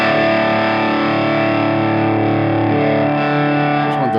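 Electric guitar through a Logic Pro AC15 amp simulation, a held, distorted chord that sustains thick and loud for about four seconds before a brief fret noise at the end, with no voice.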